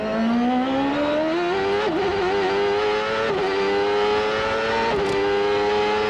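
Onboard engine howl from Bobby Rahal's IndyCar at the start of the 1995 CART race at Portland, loud and close, pitch climbing steadily through the gears with brief dips at each upshift.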